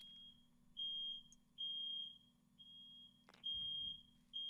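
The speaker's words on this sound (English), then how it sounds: "I think our fire alarm's going off or something like that." A smoke alarm goes off somewhere in a house, sounding a string of piercing high beeps in repeated bursts of roughly a second, moderately distant over a steady low electrical hum.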